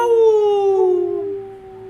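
One long, close human howl imitating a werewolf in a game, starting strong and sliding slowly downward as it fades out.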